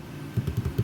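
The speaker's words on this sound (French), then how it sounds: "je tape mon mot de passe" A password is typed on a computer keyboard in a rapid run of about half a dozen close, soft key clicks, with no talk.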